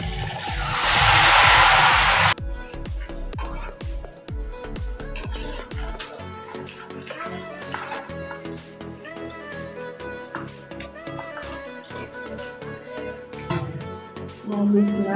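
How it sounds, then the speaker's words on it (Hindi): Pieces of besan katli frying in hot oil in a kadai: a loud burst of sizzling at first, then a steady bubbling crackle with occasional clinks of utensils against the pan. "कढ़ाई मैंने चढ़ा दी, तेल भी गर्म हो गया। मैं इसको फ्राई कर लेती हूँ।"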